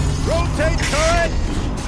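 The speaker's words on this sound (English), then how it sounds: "Rotate turret!" Mechanical whirring and ratcheting of a rotating gun turret in the video game Horizon Zero Dawn, with several short rising servo tones over a steady low rumble, loud and close.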